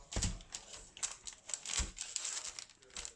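A knife sawing through a loaf of gluten-free bread on a wooden board, a quiet run of crisp, scratchy strokes in an irregular rhythm, heard up close with no one talking.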